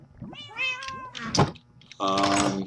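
Cats meow repeatedly close by in a Minecraft 1.5 world, giving several short rising and falling cries, then a longer sustained meow at the end, with a few faint keyboard clicks between them.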